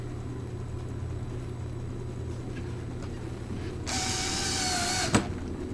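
A power screwdriver drives a screw into the seat brace of a wooden children's playstand, a steady whirring burst of about a second that ends in a sharp click, over a low background hum.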